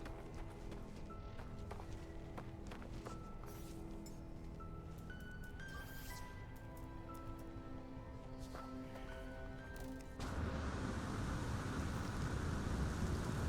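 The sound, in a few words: incoming storm with rain and thunder, from video game No Man's Sky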